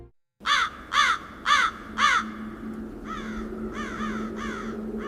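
A New Caledonian crow gives a series of loud, close caws, four strong calls followed by four softer ones in a steady rhythm over a low background hum.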